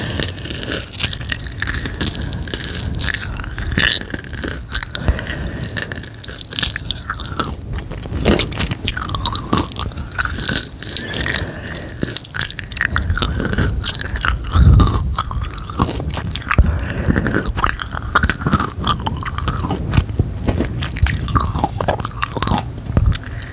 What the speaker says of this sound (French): C'est très dur à mâcher.